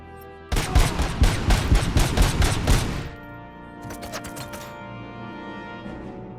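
Loud rapid gunfire from a sniper rifle in the video game RoboCop: Rogue City: a dense burst of repeated close shots for about two and a half seconds, then a quieter, shorter volley trailing into low rumbling ambience.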